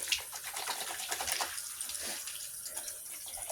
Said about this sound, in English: washing my hands